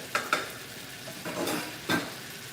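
Leftover pepper steak marinade hits a hot frying pan, giving a few short sizzling bursts and scraping stirs with a brief spatter near the end, close and fairly quiet with no talking.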